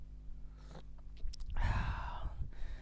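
Someone sips hot coffee from a cup: a short airy slurp swells up after a quiet moment, followed by soft mouth sounds and a swallow, close and alone.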